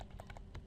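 Typing on a computer keyboard while entering HTML header tags, a quick run of about six close, crisp key clicks in uneven rhythm, with no voices.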